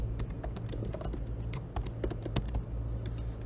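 Rapid continuous clatter of keys on a computer keyboard, dense irregular clicks close to the microphone, with a low steady hum underneath and no talking.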